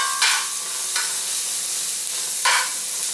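About six cloves of chopped garlic frying in a pan, making a constant sizzle with three short, louder scraping stirs spread across it and no voices.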